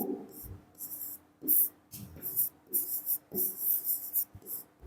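Pen scratching across paper or a board during a Hindi reasoning lesson on alphabet series, in short repeated bursts of strokes with brief pauses between them, close and clear, with no voices.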